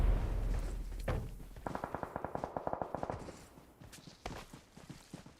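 Rapid bursts of automatic gunfire in a competitive online shooter match, a rhythmic string of sharp cracks at mid-distance followed by scattered, fainter shots.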